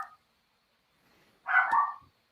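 A dog gives one short muffled bark at middle distance, brief and isolated in near silence.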